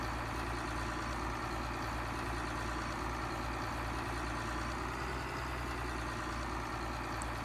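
A tractor engine idles in a video game streamed live, a steady low rumbling drone that holds level and unbroken, fairly loud with no break throughout.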